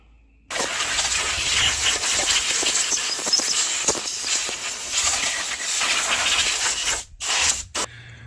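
A loud, steady hiss of compressed air blows across an engine block being cleaned before painting. The blast starts abruptly, holds nearly constant for several seconds, then cuts off in a few short bursts near the end.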